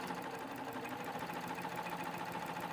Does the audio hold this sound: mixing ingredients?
no